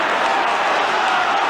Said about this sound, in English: They are suddenly looking even more dangerous, Liverpool, with the crowd urging them on.